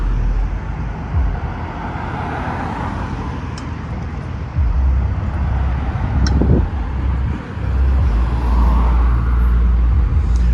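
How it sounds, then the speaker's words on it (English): Downtown Salt Lake City street traffic heard from the sidewalk while waiting at a light, with cars and heavier vehicles rumbling past close by, a few swelling pass-bys over a constant roadway hum and some wind. "there's a lot of traffic"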